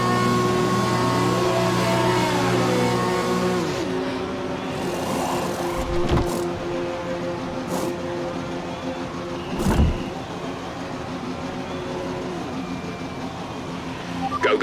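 Race car engine in the F1 2020 video game pulling through a pit stop, a steady droning whine with shifting tones, brief sharp bursts as the car leaves the box for medium tyres and a front wing change.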